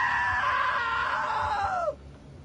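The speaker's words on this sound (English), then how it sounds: "Now that was a great scream." A long, loud, high-pitched human scream holds steady for nearly two seconds, close and unbroken, then cuts off abruptly into quiet room noise.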